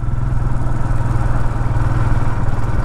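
A Royal Enfield Himalayan motorcycle engine pulls smoothly up an incline in second gear without the clutch, a loud steady low thrum with a constant throbbing pulse throughout.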